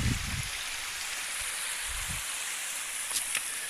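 A stream on the West Highland Way runs in a steady broadband wash of flowing water, close and continuous, with a few soft low thumps underneath.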